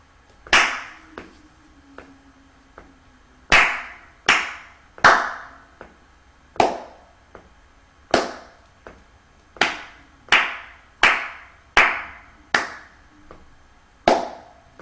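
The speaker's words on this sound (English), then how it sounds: "So I've got my foot, and I'm going to tap my foot to this nice steady beat." A foot tapping a steady beat, sharp distinct taps repeating at a regular pulse, close and clear with no talking over them.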